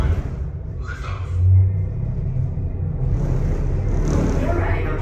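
Low continuous rumble of liftoff on the Centauri space station ride, a Mark V Stellarator space elevator, swelling briefly then holding steady with a voice talking over it.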